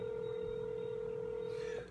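A steady telephone line tone holds unbroken and fairly loud as a number is dialed for a live radio call, then cuts off near the end.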